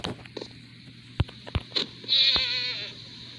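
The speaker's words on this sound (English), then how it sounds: "Ooh, another goat." A goat in Minecraft bleats with a wavering, nasal cry near the end, preceded by a few short clicks and thuds from gameplay.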